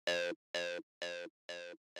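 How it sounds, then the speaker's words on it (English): A Roland TB-303 synth bass repeats a single F note, five short buzzy harmonic-rich stabs at an even pace with silent gaps, clean and alone. "The next sound we have here is the 303,"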